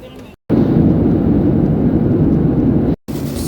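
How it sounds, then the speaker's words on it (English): Passenger airplane cabin engine drone, a loud steady low rumble held for a few seconds between two brief dropouts, heard from inside the plane. "So we are on the plane now"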